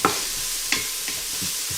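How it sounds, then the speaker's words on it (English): Thinly sliced celery sautés in a pan for tomato basil soup, a soft steady sizzle with several brief scraping stirs of a utensil, close and with no talking. "we're just going to take a moment to saute things up"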